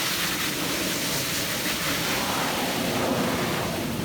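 A garden hose sprays water at long range onto soil around bamboo plants, giving a steady, close, broadband hiss that runs unbroken and fairly loud throughout, with no talking.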